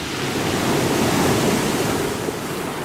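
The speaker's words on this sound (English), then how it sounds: "the bow of the ship fell down hard into the water as we entered the bay" Sea waves and spray surge around a ship's bow as it enters a bay, a dense, steady roar of wash and wind-blown spray, loud and close, with no voices.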